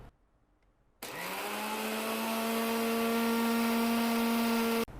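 Wet grinder churning soaked rice into idly batter switches on abruptly after a second of near silence, then runs with a steady loud motor whine and rising harmonic hum that holds to the end.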